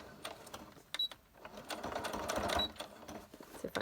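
Sewing machine stitching a second pass around an oval on a laminated lace junk-journal page, a steady rapid mechanical whir with short pauses and restarts, close and moderately loud.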